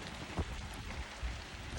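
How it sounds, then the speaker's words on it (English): Rain falling harder, a dense even hiss of drops with a couple of heavier thumps, close and steady, no voices. "It's definitely raining a little harder now."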